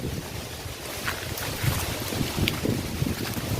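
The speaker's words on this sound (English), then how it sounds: "there's actually a lot of wind here in this place." Strong wind buffets the microphone along an outdoor hiking trail in a village, a steady loud rushing roar with gusty low-frequency thumps.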